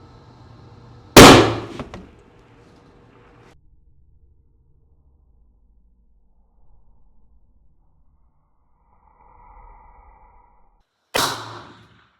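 A long range hunting rifle fires a single sharp, loud shot, followed by quiet, then about ten seconds later a faint ring and a second crack as the bullet hits a steel target at 700 yards.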